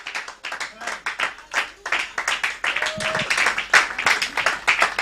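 Church congregation clapping in loose, irregular bursts alongside voices and singing, the applause rising and falling in waves at moderate loudness.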